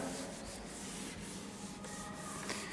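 Duster rubbing out chalk writing on a classroom board during a maths lesson, a steady scrubbing swish with brief pauses between strokes, fairly close and alone.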